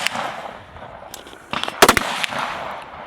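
Sharp gunshots ring out at a women's elite stage of a practical shooting competition at the North Carolina Regionals, with a tight cluster of loud reports near the middle after a few scattered single shots over range ambience.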